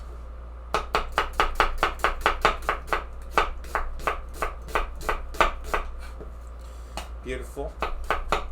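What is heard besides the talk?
knife cutting onions into julienne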